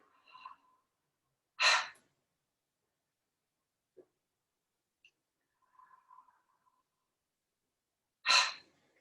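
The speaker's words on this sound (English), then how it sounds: "Let's go into our very oxygenating breath, which is simply breathing in through our mouth and out." Quick pranayama breaths in through the mouth and out during a Kriya Yoga class: two sharp, forceful breathy bursts several seconds apart, close and loud, with faint softer breath sounds between them in near silence.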